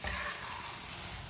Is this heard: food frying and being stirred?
yes